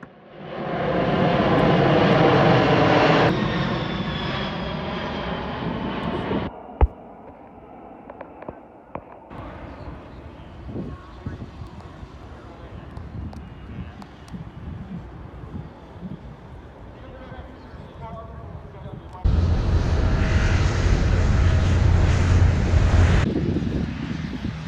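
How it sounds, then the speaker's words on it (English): A Boeing B-17 Flying Fortress passing at the Oshkosh airshow, its loud piston engine roar building and holding for several seconds, then dropping to a quieter rumble with crowd and wind noise before a second loud pass near the end. "I'm pretty sure that's the Flying Fortress"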